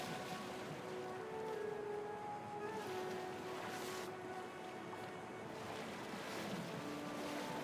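Ocean waves and rushing water in the open-world survival game Stormforge, a steady washing surf with wind noise, continuous and fairly soft, no voices.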